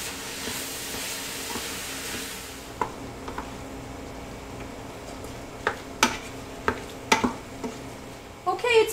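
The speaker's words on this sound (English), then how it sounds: "we're just going to cook that, mixing it in with the onions and the garlic until it's browned." Ground lamb cooking in a pan with onions and garlic, a soft steady sizzle and hiss under sharp intermittent clicks and scrapes of a utensil stirring against the pan.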